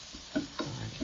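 Spices for lamb samosa filling stirred in a hot pan, quiet soft sizzling broken by a few scraping stirs, close and faint with no speech.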